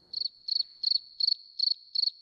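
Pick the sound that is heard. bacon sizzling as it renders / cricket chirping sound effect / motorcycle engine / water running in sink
cricket chirping sound effect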